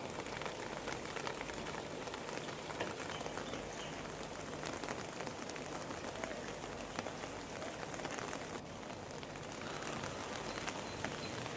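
Steady rain falls in Cuttack as a dense, even hiss of drops on surfaces, continuous and moderately faint, with no voices.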